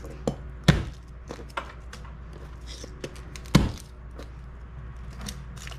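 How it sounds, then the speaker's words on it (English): Garlic cloves get smashed flat in a home kitchen, giving two sharp, heavy thumps against a board between lighter knocks and clatter, close and clear. "we're just gonna smash the garlic like so"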